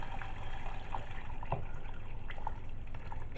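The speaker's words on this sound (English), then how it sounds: "we're going to add our 900 millilitres of vegetable stock" Vegetable stock, water with two dissolved stock cubes, pours steadily into a cooking pot for a veggie and lentil pie, a soft continuous liquid rush with small splashes, close and alone.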